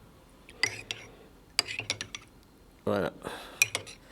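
A mixture is whisked in a small flask, producing quick clinking, rattling strokes in short bursts with pauses between, and a brief spoken word.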